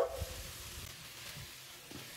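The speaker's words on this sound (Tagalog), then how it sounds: "And then I added my vegetable, which is the carrots. I just stir fry it." Sliced carrots sizzle and hiss in a hot pan as they are stir-fried for pork pancit bihon, a steady frying crackle with occasional scrapes of stirring, with no voices.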